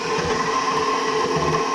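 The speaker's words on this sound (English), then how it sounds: "we're just going to knead this with the dough hook" A stand mixer kneads bread dough with a dough hook, giving a steady mechanical motor whir with a faint rhythmic churn underneath, close and constant throughout.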